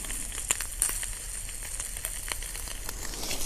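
Bacon frying over low heat in a pan on a camping stove outdoors in a forest, a quiet, even sizzle with scattered small pops and crackles.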